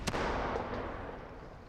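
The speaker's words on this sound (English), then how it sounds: "this detonator stroke bomb exploded in air on the surface" A bomb bursts in the open air above the surface, a sharp blast at the start followed by a fading rumbling roll and faint debris crackle, with no voices.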